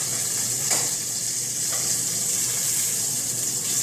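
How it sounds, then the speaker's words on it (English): Rockfish fillets sizzle steadily in a pan of butter and oil, a close, continuous frying hiss with a couple of faint clinks. "I can see my butter starting to caramelize in the oil. Pan frying the fish very well."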